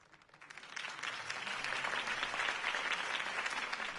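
Crowd applause after a campaign speech for Harvey Dent in the Batman Telltale video game, swelling from faint scattered claps into a sustained, steady ovation.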